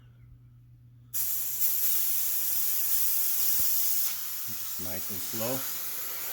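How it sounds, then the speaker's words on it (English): Compressed air hisses steadily out of a Hatsan Hercules Bully .25 air rifle as it is slowly depressurized with a flathead screwdriver, a loud broad rush that eases slightly partway through while someone speaks briefly over it. "We'll just slowly crack it until we get a little bit of air."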